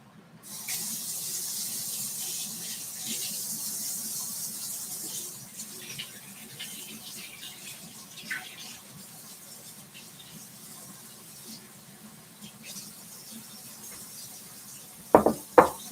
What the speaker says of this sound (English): Might try running it under water too.